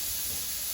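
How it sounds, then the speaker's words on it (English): A pressure canner loaded with vegetable broth vents steam before the weight goes on, heard as a brief, steady, loud hiss. "It's doing its steam thing"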